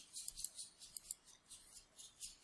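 Quick bursts of soft, high, clicky ticks come from a computer mouse during a Microsoft Word lesson. They fall in short uneven clusters with brief gaps, close and quiet, and no voice is heard.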